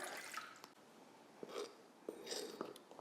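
Water trickles and drips faintly into a bowl of all-purpose flour for a bread sponge, a quiet, close pour with small splashy drips and no talk.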